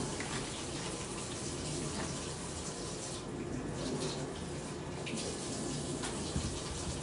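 Tap water runs steadily while corn is rinsed under it for a seafood boil, a constant, fairly soft splashing gush with no pauses.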